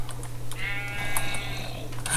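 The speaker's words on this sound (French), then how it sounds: "Oh le mouton." A sheep in Minecraft lets out one wavering bleat lasting about a second, mid-distance, over a constant low hum and scattered clicks.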